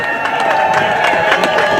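A large political rally crowd in California, a dense, steady roar of many voices cheering throughout, loud and close with no pauses.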